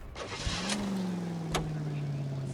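A car in the video game L.A. Noire starts up and pulls away, its engine settling into a steady low hum with a couple of sharp clicks over it and some faint background sound.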